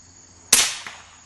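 A single sharp airgun shot cracks close by, followed a moment later by a fainter impact on a soda can, with quiet outdoor background before and after.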